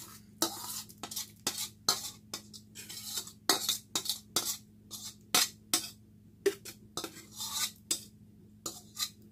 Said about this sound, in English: And then you're going to mix it up.